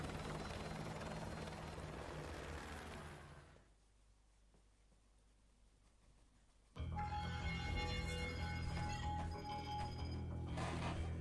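Helicopter in the video game Call of Duty Modern Warfare 2, a steady loud rotor and engine roar that drops away briefly mid-clip, then returns at full strength with tonal ringing layered on top.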